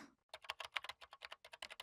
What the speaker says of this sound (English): Kunosato is sitting with her laptop, typing at an incredible speed.